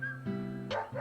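Willie, a dog in the video game Deadly Premonition Origins, gives a few short, close yips and barks in quick succession.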